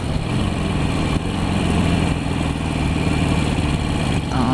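A motorcycle engine runs steadily and loud while riding home at night from a bike night, a continuous close rumble with no talk over it.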